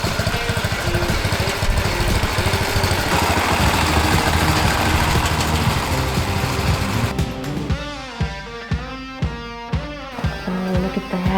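Wheel Horse 753 garden tractor engine, newly restored, runs steadily at a fast idle up close. A loud, even small-engine putter later breaks into a pulsing, rhythmic chug.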